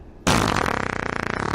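A loud, close fart sound effect erupts abruptly and sustains as a long rippling, buzzy rasp for over a second, with no voices.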